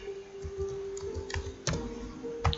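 Computer keyboard keys are pressed in Excel, a few scattered clicks and taps at an uneven pace, close and fairly quiet, with no speech.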